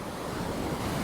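A river running strong and full, heard as a steady, broad rushing wash of water with some wind buffeting the microphone, continuous and fairly close throughout.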